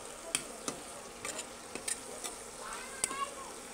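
Spices fry in a pan on an electric stove while being stirred, with a soft continuous sizzle under sharp scraping clicks and taps of the utensil against the pan at irregular intervals.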